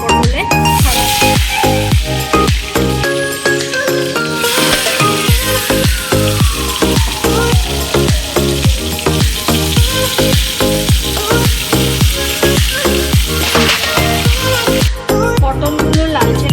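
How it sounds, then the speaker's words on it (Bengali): Pointed gourd slices sizzle and crackle in hot mustard oil in a kadai, a loud, steady frying hiss with rapid popping and occasional utensil clinks throughout. "এবার পটলগুলো আমি ভাজবো এক এক করে।"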